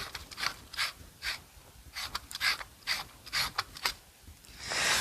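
Lightsaber hilts twisted together by their threads give a series of short, dry clicking and grinding bursts in an uneven rhythm, close and fairly quiet, with no talking.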